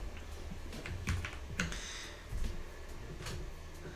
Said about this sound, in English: I have a cute keyboard. I'm so excited about this thing. I love typing on it too.